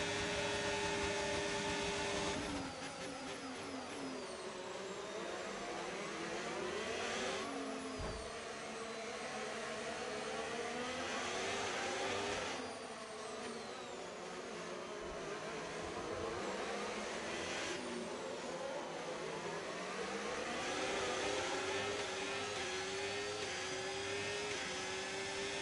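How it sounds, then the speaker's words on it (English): A Mercedes-powered Williams Formula 1 car from the F1 25 game screams at high revs, its whine rising and dropping with each gear shift and corner over a long, loud, continuous stretch. "the Mercedes engine in this Williams is so good"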